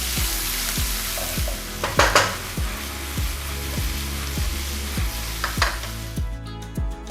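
Shallots, onions and green chillies sizzle steadily in a pan while a spoon scrapes and stirs them in a regular rhythm, about one stroke every half second, close and alone with no voices.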